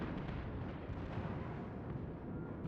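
A battleship's secondary guns fire in World of Warships during a fight with the Myogi, making a dense, continuous rumble of overlapping booms and crackle with no pauses.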